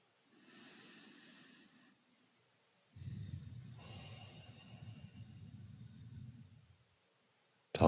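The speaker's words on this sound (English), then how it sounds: "Breathe in." A person takes slow, deep breaths in a quiet room, first a softer breath and then a longer, heavier inhale with audible airy snorting through the nose, close and alone, ending in silence.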